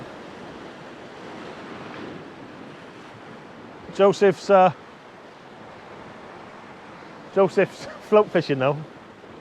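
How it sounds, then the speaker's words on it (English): Sea waves roll steadily onto a rocky shore on the Devon coast at Salcombe, a continuous broad wash with some wind noise, and someone speaks briefly over it twice. "you're going to start getting these rollers come in"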